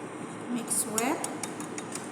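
Utensils clink and scrape against a bowl while a salad of kidney beans, cucumber, lettuce and corn dressed with olive oil is tossed, a few brighter clicks standing out near the front of the mix.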